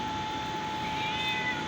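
A cat meows while being offered chicken, a short close call over a steady background hum and noise, with no talk.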